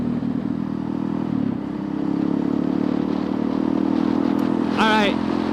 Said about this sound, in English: You just kind of add throttle while you go down a gear so it sinks